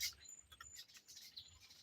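Birds returning home at dusk, giving faint, scattered high chirps and tweets, several short calls spread across a quiet, distant outdoor background.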